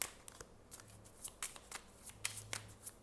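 Tarot cards shuffled by hand, a quick series of soft riffling bursts and taps, close and fairly quiet, with no talking.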